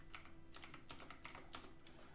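Keystrokes on a computer keyboard come in a quick, uneven run of soft, faint clicks over low background hum, close by with no speech.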